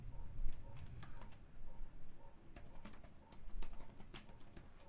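Keys clatter on a computer keyboard as an email address is entered during website setup, in short bursts of quick, light taps with brief pauses, close up and alone.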